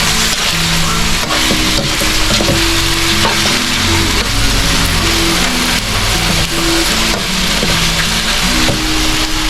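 Food fries in a pan with a steady, loud sizzle and crackle throughout, joined by intermittent clunks and scrapes of stirring and handling, with no talk.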